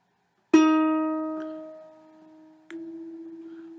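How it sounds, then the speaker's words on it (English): An in-tune E string on a ukulele is plucked once, ringing clearly and fading slowly, then plucked again more softly, with a steady sustained tone and no talking. "Here's the sound of an in-tune E."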